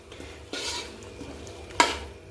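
Potatoes being stirred into a spiced masala in a pan for a pea and potato curry: a soft scraping stir with a sharper clink of the spoon against the pan near the end, no talk.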